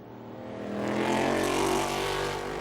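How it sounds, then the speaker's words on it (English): Onboard engine of the 1998 BMW race car driven by Thomas Pescher at the Le Mans 24 Hours in 2000, rising loud and close as it accelerates, then holding a strong steady drone. "This is on board with the sole BMW, the 1998 car, here being driven by car owner Thomas Pescher"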